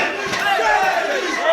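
Fans and family shout and cheer at a grappling match, a loud, continuous crowd roar with overlapping raised voices and calls throughout.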